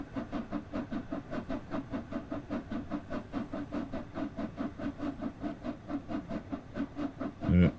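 A steam locomotive in a train game labours up a steep gradient, chuffing in a steady, heavy rhythm that slows and slips. A short, loud burst of hiss or whistle breaks in at the very end.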